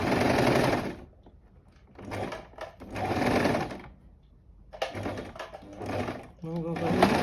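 A sewing machine stitching a scrunchie runs in several short whirring bursts, broken by pauses where a person speaks between the runs of stitching.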